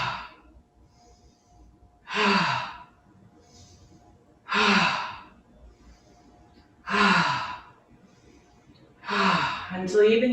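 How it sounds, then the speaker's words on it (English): Four deep, even breaths at a slow steady rhythm during a breathing practice, each a long airy inhale drawn into the belly and lower ribs, close and clear with quiet pauses between and no talking. "on the inhale, I'm trying to fill up the belly, fill up into just a little bit of the ribs"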